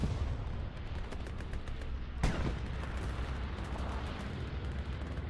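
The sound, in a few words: artillery and bombing run in Hell Let Loose video game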